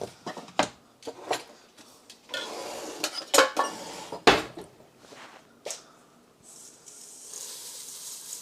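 Kitchen utensils clink and clatter while a chopping board is handled, with sharp irregular knocks and rattles, brief scraping hisses, close by and with no talk.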